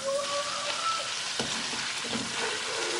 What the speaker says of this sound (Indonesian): Kalau misalnya sudah panas, kita mau goreng terlebih dahulu cuminya.